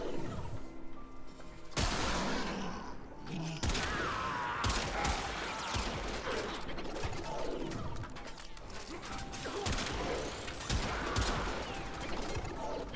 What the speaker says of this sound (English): All of you up there, stop shooting, thank you. You're all firing on me illegally.